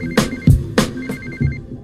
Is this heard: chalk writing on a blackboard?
no